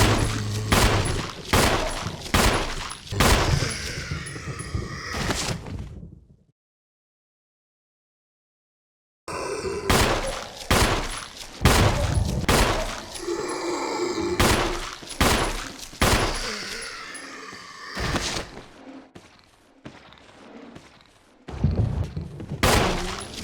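Rapid pistol shots fired at zombies in the Resident Evil REmake video game, loud sharp reports in quick bursts with a pause of silence midway, then more volleys with impacts.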